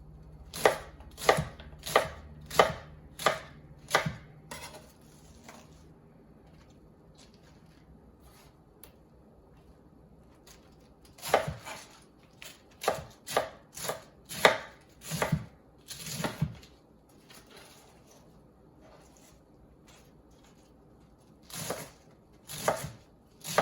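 A knife julienning vegetables for Jamaican cabbage and saltfish, with quick rhythmic bursts of sharp chops on a cutting board. The runs of strokes are separated by quiet pauses and no voice is heard.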